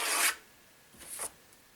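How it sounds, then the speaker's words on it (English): Two short rasping strokes as a piece is trimmed off a wooden model ship, a harsh scrape followed by a second, softer one, close and with no talk. "I'm just going to trim this piece off here."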